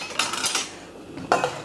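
Cherry tomatoes and raw shiitake mushrooms being tossed together in a bowl, giving a few light clinks and scrapes of utensils against the dish in short bursts.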